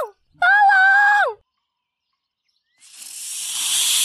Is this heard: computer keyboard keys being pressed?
no